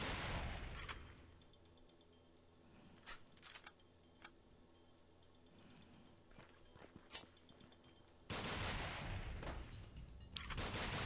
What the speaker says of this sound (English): I do like how you can shoot guys' hats off